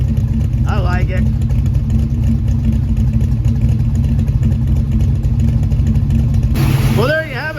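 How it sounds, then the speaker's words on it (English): Engine of a 1971 Dodge Demon with a shed-built 360 V8 drag-racing motor idling steadily, loud and close throughout, with a rougher shift near the end; no talk over it. "A running 360 in the Demon"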